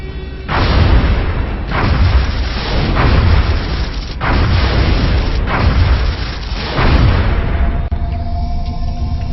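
Heavy explosions boom repeatedly as an interceptor shoots down a UFO in the video game XCOM: Enemy Unknown, about six loud blasts each rolling out into a rumbling tail, with no voices.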